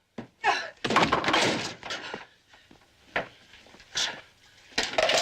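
A door being shut in a TV drama: a scatter of thumps and knocks amid scuffling movement, including a couple of harder impacts, with brief voice sounds between them.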